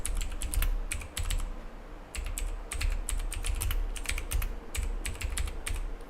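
Rapid, uneven clatter of keys on a computer keyboard, up close and alone, coming in quick bursts separated by short pauses.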